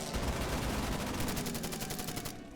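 Rapid rattling gunfire in the World War II strategy game Order of Battle, a loud continuous burst of rounds that thins out and fades at the end.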